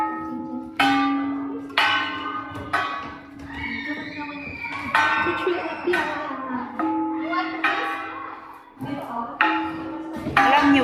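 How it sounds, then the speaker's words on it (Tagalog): Gangsa, flat bronze gongs of the Cordillera, struck repeatedly in an ensemble, bright ringing strikes decaying over a steady pulse with a sustained tone, loud and close. "Alam niyo ba na ang gangsa to ng Cordillera ay isang gong na latag at karaniwang pangkatan ang pagtutugtog."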